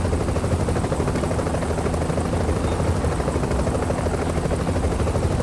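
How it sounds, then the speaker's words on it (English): Extraction helicopter in The Division, a loud, steady rotor thump and turbine roar filling the whole stretch without a break, close by and constant. "chopper's nice and warm"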